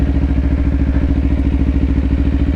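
A 2024 Kawasaki Ninja 500 motorcycle engine running, a loud steady rumbling throb with a fast regular pulse, close and alone without talk.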